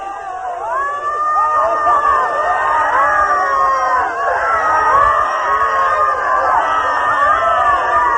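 Many voices in an Osho meditation session, people crying out, wailing and shouting together in a dense, continuous wash of overlapping cries that stays loud throughout.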